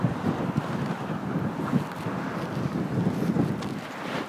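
A steady gust of wind buffets the microphone outdoors, a continuous broadband rumble and roar with small surges, loud and close, no voices.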